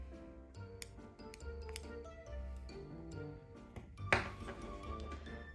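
Scissors snip a crochet yarn tail on an amigurumi penguin, a quiet close cut with a few light clicks and small metallic clinks, no talking.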